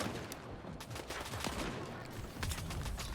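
Enemy gunfire punching through walls in STALKER 2, muffled bursts of rapid shots popping in irregular clusters, fairly faint and distant-sounding.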